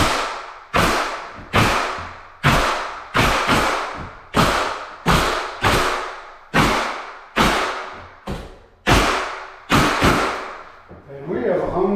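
A nail gun drives nails into a floating shelf fitted in a tight space, about ten loud, sharp bangs fired at a steady pace of roughly one per second, each decaying quickly.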